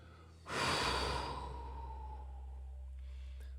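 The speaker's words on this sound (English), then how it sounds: "Let's begin our breathing rounds by blowing everything out" A single forceful exhale blows breath out to open a breathing exercise, a loud breathy rush that starts suddenly and fades slowly over a couple of seconds, close to the microphone with a quiet low hum beneath.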